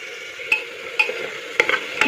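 A spoon stirs dalia and vegetables with ginger and turmeric in a cooking pot, scraping in four distinct strokes at even intervals over a soft background sizzle.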